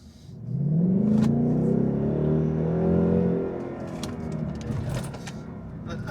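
A car engine revs up hard, climbing in a loud rising sweep for about three seconds before easing back to a rougher, lower idle rumble, close by.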